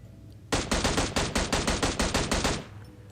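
A rapid burst of about a dozen M16 rifle shots in the video game PUBG Mobile, loud and evenly paced for two seconds, alone without talk.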